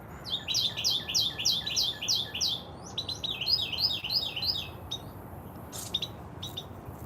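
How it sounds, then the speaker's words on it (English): A mockingbird singing in a garden: fast, bright trilled phrases of repeated notes, one burst after another, fading to a few scattered calls over a low outdoor background. "And we got the bird, Mockingbird."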